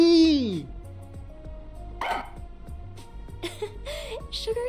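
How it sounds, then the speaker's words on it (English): A small cartoonish dog in the video game Rain Code barks and yips in short bursts over game music, with a person talking excitedly between the barks. "Look at this fucking doggy."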